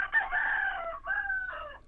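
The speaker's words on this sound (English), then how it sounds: "Is that a resistance rooster or what?" A rooster crows in one long cock-a-doodle-doo with a brief break near the middle, moderately close and alone, with no talk over it.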